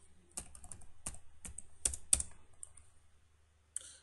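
Fingers tap number keys on a computer keyboard in quick, close, fairly crisp clicks, bunched into short runs with brief gaps, then a pause before one last sharp keystroke.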